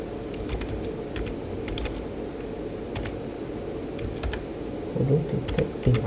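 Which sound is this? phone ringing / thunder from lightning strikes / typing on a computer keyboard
typing on a computer keyboard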